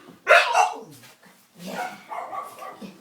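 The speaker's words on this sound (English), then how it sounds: "It's a little lap dog." A small lap dog gives a couple of short, high yips close by, separated by brief pauses.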